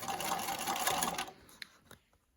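A sewing machine top stitches around a fabric mask. It runs in a fast, loud, continuous whir for just over a second, then stops, leaving a few faint clicks and knocks.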